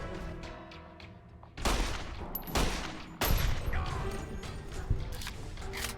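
Gunfire in Fallout: New Vegas: a few loud, close shots with heavy echoing tails, spaced a second or so apart, then lighter mechanical clicks and scattered impacts.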